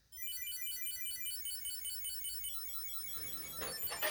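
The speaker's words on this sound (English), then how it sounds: "just ring the tracker and you'll be able to find your wallet easily" A wallet tracking card rings out with a thin, high electronic chime repeating in a quick, regular pattern, sustained for several seconds and then joined by a few brief louder chirps near the end.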